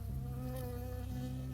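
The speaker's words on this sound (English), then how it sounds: "I got stung by a bee." A bee buzzes close by in the forest setting of the video game Firewatch, a steady droning hum with shifting pitch that fills the short moment, no talk.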